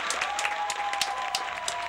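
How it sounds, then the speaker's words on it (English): Audience applauds a guest turntablist DJ at a live event, a dense steady patter of claps under a faint sustained tone, with no voices over it. "we got to have a little round of applause for that."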